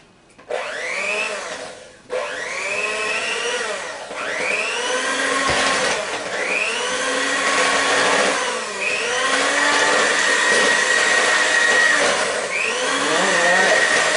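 An electric mixer whirs steadily through baking batter in a home kitchen, a loud continuous motor drone with rhythmic swells as the beaters move around the bowl, briefly stopping once near the start before running on.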